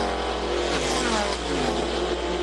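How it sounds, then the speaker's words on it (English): Grand-Am Rolex sports cars racing at the 2007 Crown Royal 200, including BMW and Porsche powered machines, roaring loudly and continuously on track, engines revving and passing with a steady dense drone and no voices. "there's some fabulous racing out on track"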